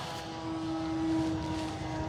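An E-flite T-28 Trojan RC model plane with a 1.1 m wingspan flies by, its electric motor giving a steady whining hum with a sustained tone that swells slightly as it passes at moderate distance.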